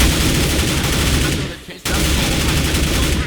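Rapid automatic gunfire spraying in a Counter-Strike match on the map Mirage, loud continuous bursts that cut out briefly and resume, with a commentator talking over it.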